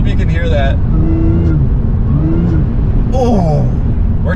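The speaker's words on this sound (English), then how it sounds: "Oh, dude, the supercharger. Oh, I hope you can hear that." Fire-damaged supercharged Audi S4 engine revving hard while driving, a loud, close rumble rising and falling with throttle, overlaid by someone talking excitedly.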